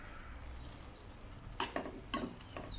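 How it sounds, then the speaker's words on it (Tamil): Boiled rice being stirred into coriander paste in a pan on low heat, a soft background sizzle broken near the end by a few sharp scraping strokes of a spoon against the pan. "இப்போது ஒரு தடவை நல்லா கலந்து விட்டுக்கோங்க"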